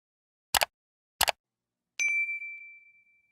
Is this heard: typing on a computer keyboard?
no